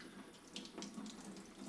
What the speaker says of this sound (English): then run it underwater